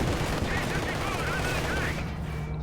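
Gunfire from the Company of Heroes 2 strategy game, a 1v1 match with Soviet and German armies, heard as dense continuous rattling volleys and bursts under a steady battle din, with faint whistling sounds over it.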